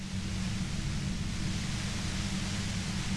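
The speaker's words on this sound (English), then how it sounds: "she's like shooting white noise into our head" Steady, dense hiss of white noise used as a paralysis effect in the game Genshin Impact, loud and unbroken for the whole stretch with no other sounds.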